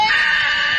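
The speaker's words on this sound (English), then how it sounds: "That scream is fantastic when he just stands up with that demon face on his scream." A shrill, sustained scream from a remix clip, loud and close, holding a high pitch for under a second with no talk over it.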